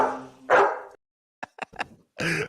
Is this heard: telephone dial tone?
no